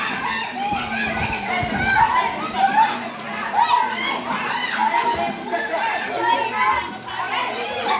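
Children playing and swimming at a family pool: a busy, lively mix of kids' voices, shouts and chatter at mid distance, with adult talk mixed in throughout.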